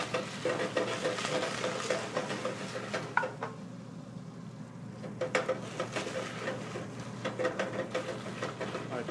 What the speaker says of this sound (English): you're going to want to be able to roast the garlic